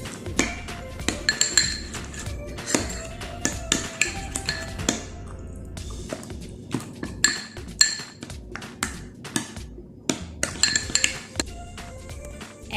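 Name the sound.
mixing shawarma sauce with lemon juice in a bowl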